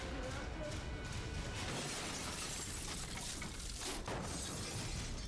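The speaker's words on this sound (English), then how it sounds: "little glass breakers to break the glass" Glass breakers shatter car glass in a stunt rig, a loud, sustained crunching burst that fills the whole moment, with voices talking over it.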